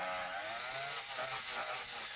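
A Craftsman string trimmer fitted with a TrimmerPlus edger attachment cuts a lawn edge, giving a steady, loud, high-pitched motor whine with a gritty scraping texture that runs without a break.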